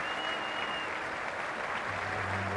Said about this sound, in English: they're on their feet in the new stand, giving Otis Gibson a cheer off the ground